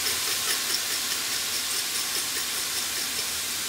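Balsamic vinegar and salt sizzle in a hot pan, giving a steady, bright hiss that stays close and even throughout, with no talk over it.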